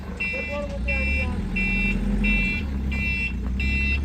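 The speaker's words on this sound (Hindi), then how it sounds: "गाड़ी अंदर लेके आ रहे हैं हम" A chick delivery truck backs into a farm, its reversing alarm sounding a steady series of regular beeps over engine rumble, with people talking nearby.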